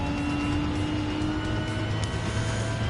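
An Aston Martin Vulcan hypercar runs on a track in the game Gran Turismo 7, its engine a loud, steady drone that holds an even pitch throughout.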